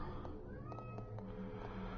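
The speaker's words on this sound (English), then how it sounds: "I hear you, kitty." A pet cat in heat meows repeatedly, short faint cries at a steady rhythm over a constant low hum in a room.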